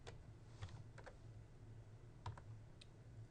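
Quick bursts of keystrokes on a computer keyboard as a command is typed, a few clustered clicks near the start and another short run later, soft and close with quiet room hiss between.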